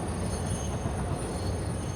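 A game train in Satisfactory rolls steadily along its rails, a continuous close rumble with a thin high whine riding on top and no voices.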